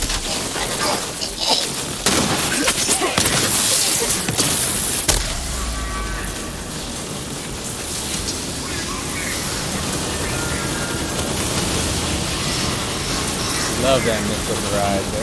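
Dense rolling bursts of missile-barrage explosions from Borderlands 3, loud and continuous with heavy low booms, crackling impacts and gunfire-like bursts, voices talking over the chaos.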